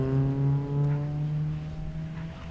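Rallycross race cars competing in a championship round, with one engine droning at a steady pitch, a little distant, that slowly lowers before fading as the car moves off.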